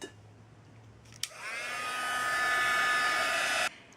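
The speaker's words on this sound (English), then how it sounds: "I'm going to take my heat tool and very quickly" A handheld heat tool blasts air over a watercolor card for about two and a half seconds, switching on with a click, holding a steady loud whoosh, then cutting off abruptly in a quiet room.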